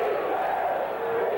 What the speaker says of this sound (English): the crowd becoming more animated all the time